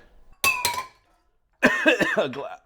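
Two quick bright glass clinks ring out close together, then a pause before a longer clattering run of glassy knocks and rattles, all close and fairly loud with no talking.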